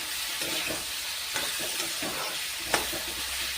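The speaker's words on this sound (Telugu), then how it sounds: "మంచిగా సాఫ్ట్గా అయ్యేంత వరకు ఈ పొటాటోని ఫ్రై చేయాలి" Potato pieces sizzle and fry in oil in a pan for a Telugu aloo curry, a steady hiss with a few scraping stirs and one sharp clink, no voices.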